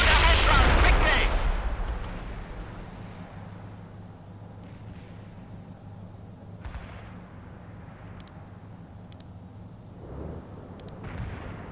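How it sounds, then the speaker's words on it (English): A mortar barrage in World in Conflict opens with a heavy, loud blast that rumbles away, then a few distant thuds and smaller impacts follow under faint battlefield ambience. "mortar barrage"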